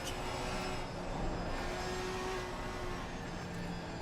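A GT3 race car engine in a sim racing game at Snetterton drones steadily with a continuous high-pitched whine while the throttle is lightly feathered, fairly faint and with no talk over it.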